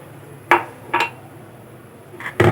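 Eggs are cracked one after another against the rim of a bowl for chocolate brownie batter, giving three close, sharp knocks spaced about half a second to over a second apart with faint dish clinks and no talking.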